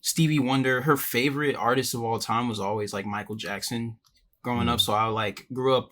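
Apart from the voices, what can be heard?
No everyday noise stands out behind the speech.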